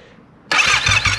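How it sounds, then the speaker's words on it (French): A motorcycle engine starting up during an oil level check, catching abruptly after a brief quiet moment and settling into a loud, close, steady idle. "Ensuite, on démarre la moto."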